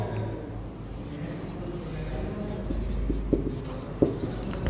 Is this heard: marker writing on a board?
yes